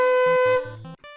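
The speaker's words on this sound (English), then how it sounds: "I taught her how to play B, which sounds like this" A flute sounds a sustained B note, a clear tone with steady harmonics, held about half a second before a shorter repeat and a cutoff, with soft low accompaniment underneath.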